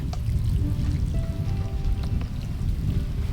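Water pours steadily onto the soil of a freshly transplanted tomato plant, a close, continuous splashing gurgle with faint trickles, no talk.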